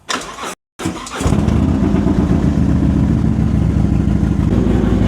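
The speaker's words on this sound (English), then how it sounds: "that was a pretty rough start, to be honest" A Harley-Davidson motorcycle with a weak battery turns over in a few labored cranks with a brief gap, then catches and settles into a loud, steady, lumpy idle close by.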